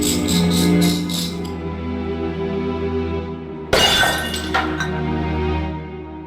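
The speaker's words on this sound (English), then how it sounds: "The troll's tooth scored through the cabinet's glass like an accountant through a rich man's wallet." In the Discworld Noir video game, a troll's tooth cuts into a glass cabinet. A low hum plays first, then a sudden bright crash of shattering glass, followed by tinkling fragments.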